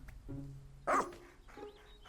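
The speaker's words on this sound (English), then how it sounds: "This creature reminds me of a dog" Moss, the green-furred dog-like creature from the Pikmin 4 video game, gives a short yip followed by a louder bark and a softer whimpering call, heard up close over faint game music.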